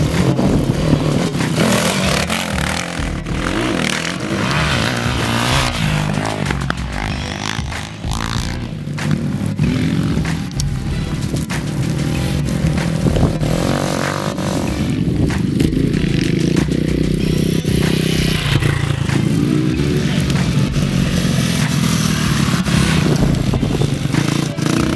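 Yamaha motorcycles race on the sand track at Lac Rose in Senegal during a four-hour endurance event, engines roaring and revving loudly and continuously as several bikes pass close by, with clattering and scraping mixed in.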